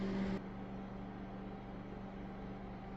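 A microwave oven runs while defrosting chicken, giving a steady, even electrical hum with a whirring drone that holds unchanged for about three seconds, heard close and alone.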